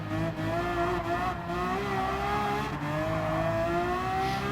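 Ferrari race car engine in Gran Turismo 7 holds a steady high-revving whine with clear rising harmonics, briefly dipping during gear shifts, loud and continuous with no talking.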